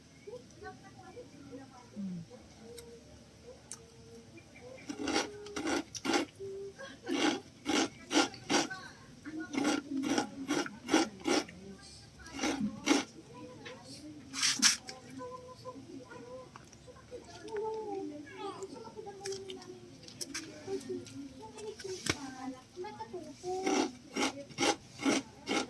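Grated coconut or papaya being scraped along the side of a pot while cooking ginataang papaya, a series of sharp rasping strokes in bursts, close and fairly loud, with people chatting throughout.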